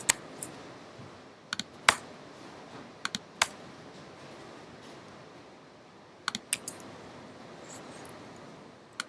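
Typing on a computer keyboard, with short bursts of crisp key clicks separated by pauses over a steady low room hum, close and fairly quiet, nobody speaking.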